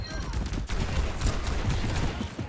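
Rapid gunfire from a shooter video game, dense bursts of shots layered with game noise while a voice talks over them.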